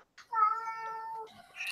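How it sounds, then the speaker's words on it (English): A pet cat named Navi gives one long, loud, close meow that holds steady for about a second before tapering off, heard alone without talk. "he's also meowing at birds at the moment"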